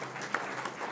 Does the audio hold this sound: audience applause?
yes